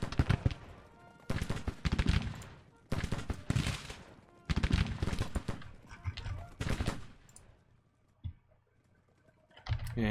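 Rifle volleys and scattered musket fire from a Grand Tactician: The Civil War battle crackle in dense bursts, with pauses between volleys and a lone shot near the end.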